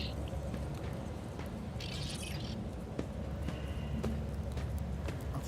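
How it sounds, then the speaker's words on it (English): Footsteps in the video game Rogue Trader, a steady clip-clop of paced steps set in a low ambient game soundscape with faint scattered clicks. "I can hear footsteps"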